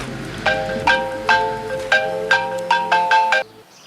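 A telephone ringtone plays a bright repeating electronic melody of short chiming notes, loud and close, then cuts off abruptly.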